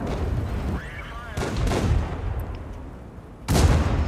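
Tank cannons firing in the World of Tanks video game: two heavy, booming shots about two seconds apart, the second one louder, over a constant low engine rumble.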